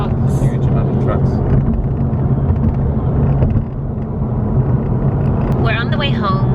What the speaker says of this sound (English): There's a lot of trucks as well going in at the moment